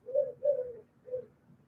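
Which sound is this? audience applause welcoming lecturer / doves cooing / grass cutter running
doves cooing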